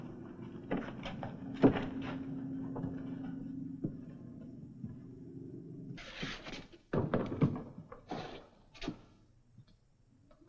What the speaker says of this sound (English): Just open up the door.